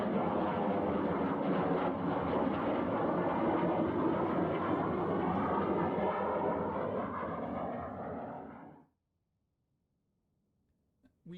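A Hawker Hunter T7 jet in an air display roars past with a loud, broad rushing engine noise that holds for several seconds and then cuts off abruptly to near silence.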